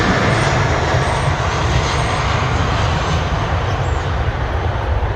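Aircraft at London Heathrow Airport, a loud, steady roar of jet engines with broad rushing noise, constant and close for the whole stretch, no talk.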